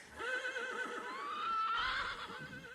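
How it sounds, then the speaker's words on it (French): Horses neigh and whinny in sustained, overlapping calls as they flee a barn at night, the cries close and loud with faint hoof clatter beneath. "2 chevaux s'enfuient."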